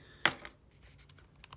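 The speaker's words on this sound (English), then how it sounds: "this is just a matter of typing things in the calculator" Keys pressed on a calculator while working out sector area and arc length, one sharp close click followed by a few quieter taps.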